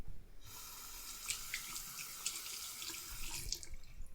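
A bathroom tap runs in a steady stream into a sink, splashing as a makeup towel is wetted, for about four seconds before cutting back at the end.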